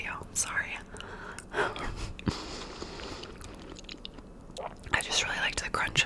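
Crunchy chips are chewed close to the microphone in bursts, with a soft whispering voice before and after the bites.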